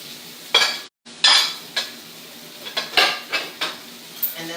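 Fried steak pieces frying in a pan, with metal utensil scrapes and clinks stirring the meat in irregular bursts over a low sizzle, close and loud, no voices.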